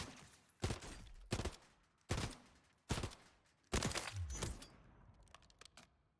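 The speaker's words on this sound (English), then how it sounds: "Now we're going to take a look, see how good the 3-round burst is" A DG-56 rifle in a video game fires several sharp 3-round bursts, each a tight cluster of loud cracks followed by a short decaying echo, with brief pauses between groups.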